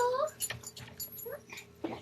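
Molly, a small dog with a fresh haircut, whimpers and moans at a door in a few high, rising whines near the start, followed by softer sounds mixed with people talking nearby.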